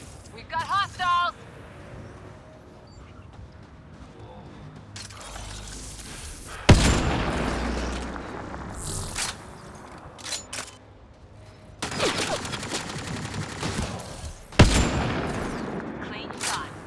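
Rapid bursts of sci-fi gunfire and booming impacts from the shooter Mass Effect: Andromeda on Insanity difficulty, loud and clustered in volleys with pauses between, mixed with game voices and combat noise.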